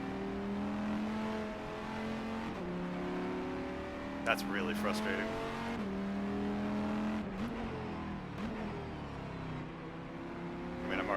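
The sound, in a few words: race car driving in a racing video game, EGT car at Estoril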